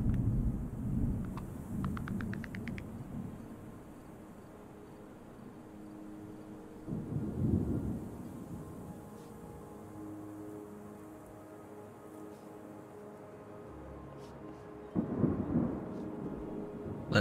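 Rain patters steadily in the game Terra Nil while low thunder rolls in three distinct swells, near the start, middle and end, with quiet stretches of soft rainfall in between and no voices.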